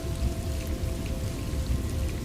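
Storm rain falls hard and steady in Gotham City as a sound effect for a Batman audio drama, a loud, continuous hiss with a low rumbling body and no voices.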